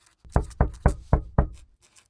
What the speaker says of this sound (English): The knock came at an unreasonable hour.